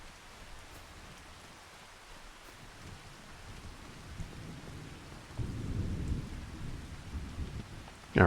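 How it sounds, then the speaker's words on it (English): Steady rain hisses throughout a farming video game, with a low rumble of thunder swelling in the second half and a sharp crack at the very end. "need this rain to stop."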